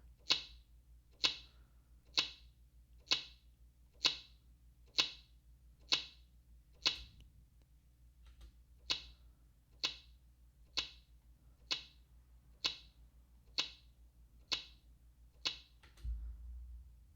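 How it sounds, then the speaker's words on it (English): Processed recording of a breaking branch looped into a steady clock-like tick, about one sharp click per second, with a brief gap near the middle and a low hum underneath. "It almost sounds like a ticking clock."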